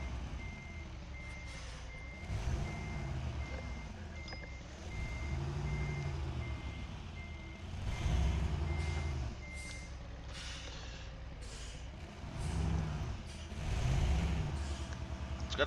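Kenworth W900 truck in Euro Truck Simulator 2 backing up, a steady run of evenly spaced reversing beeps over a low diesel rumble that swells in several slow surges, with an air-brake hiss.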